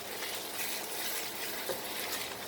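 Kofta slowly frying in a pan, a close, steady sizzle with faint stirring scrapes and no voices.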